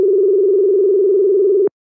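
A telephone ringback tone plays while a call is being placed: one steady, loud, unbroken electronic tone that holds for under two seconds and then cuts off abruptly into silence.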